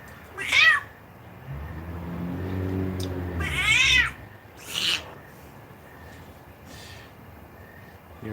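Cats meowing nearby, several drawn-out meows spaced across a few seconds, one rising into a longer wavering cry, with a low hum underneath and no talk.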